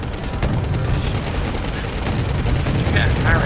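Battlefield gunfire and artillery in a strategy war game, with T-55 tanks and infantry under bombardment, as a dense, continuous rumble of overlapping shots and booms that holds steady throughout, with a few faint higher tones near the end.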